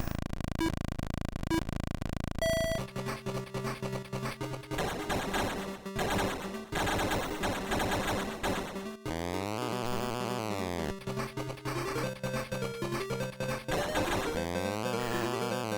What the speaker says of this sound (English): That weird farty noise is the sound of someone using a nitro